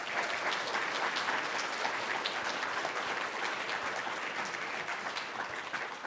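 Audience applause welcoming Maya Wiley to the stage at a fireside chat event, a steady wash of many hands clapping for about six seconds, dense and sustained with no talking over it.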